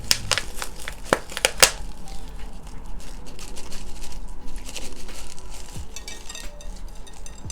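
Plant cuttings being pulled from moist moss, giving close, crisp crinkling and crunching with sharp clicks early on, then softer rustling and patter.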